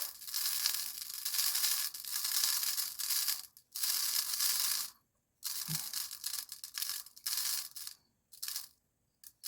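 Mirrored crushed glass is poured into a jar in several separate bursts of gritty, rattling hiss, broken by short pauses of silence.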